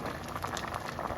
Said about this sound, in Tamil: வாவ் சூப்பராக நமக்கு கிழங்கு வெந்துருச்சு